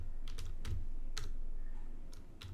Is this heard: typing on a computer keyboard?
yes